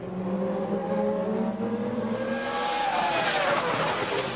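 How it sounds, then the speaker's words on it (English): Formula 1 cars at a 2000 season race as the safety car pulls off the track, engines revving and rising in pitch as they accelerate, a loud continuous roar that builds toward the end. "The safety car pulled off."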